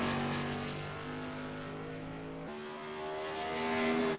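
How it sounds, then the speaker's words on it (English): The number 76 modified race car roars around the USA International Speedway during a qualifying run, its engine droning loud and steady with pitch shifts as it works through the turns, with no voices. "Stephen Costley on the track now, the number 76 car, making his way into his qualifying attempt"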